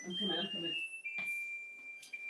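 A kitchen timer alarm rings with a steady high electronic tone that runs on after a woman's brief speech, joined by a couple of faint clicks.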